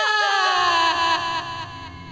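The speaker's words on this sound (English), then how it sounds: "But then they get interrupted by Foxy screaming." Foxy, the animatronic pirate fox from a FNAF South Park parody, lets out a loud, wavering high-pitched scream that wobbles up and down and slowly fades over about two seconds, heard alone.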